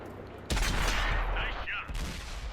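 A loud, sudden M26 Pershing tank cannon blast in a video game, followed by a booming rumble and a second impact shortly after, with brief game voice chatter in between.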